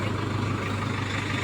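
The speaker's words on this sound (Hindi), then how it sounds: "यू मुड़गा ट्रैक्टर इस साइड को" A tractor engine runs as it turns in a sugarcane field during pesticide spraying, a steady, close, low rumble that continues unbroken throughout.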